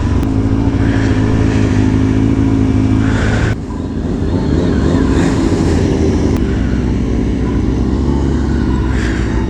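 A pack of stunt motorbikes rumbles loud and close through the abandoned downtown of Cairo, Illinois, engines droning steadily with revs swelling and dropping, and a short dip in the noise partway through.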